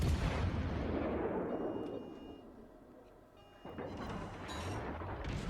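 Heavy naval gun salvos boom from the premium battleship Tulsa in World of Warships: Legends, a loud blast rumbling and fading before a second sharp report fires near the end.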